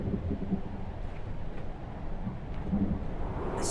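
A thunderstorm in the narrative adventure game Return to Grace: a low, continuous rumble with rain-like wash and a few faint distant crackles, steady and moderately quiet throughout.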